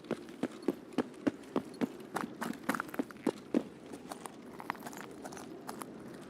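Footsteps in a video game land in a regular, fairly loud stride. They grow uneven and softer toward the end, over a low steady background hum.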